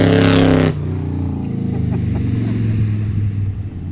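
After a brief voice, a loud combustion-engine car drones past with a low, steady rumble that holds and pulses slightly as it goes by.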